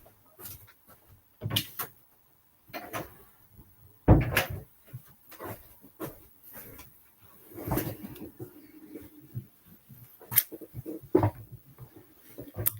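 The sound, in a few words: door being shut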